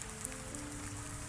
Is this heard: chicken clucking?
no